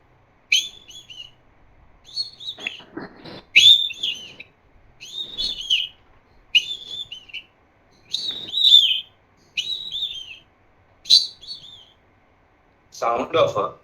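Bright whistled bird phrases from an Indian nightingale, about eight short rising and falling calls repeating every second or so, clear and fairly close, ending in a burst of broadband noise.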